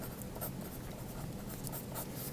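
Pen or pencil writing a name on the back of a large sheet of paper: a continuous soft scratching with small repeated strokes, close up, with no voices.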